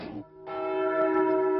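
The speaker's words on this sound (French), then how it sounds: "la cloche du pape a sonné dans un village normand" A church bell rings in a Normandy village, a brief first stroke and then a second sustained, resonant tone that hangs loud and clear with a slow shimmering decay.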